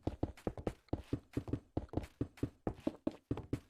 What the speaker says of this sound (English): I recently installed a new footstep sound thing.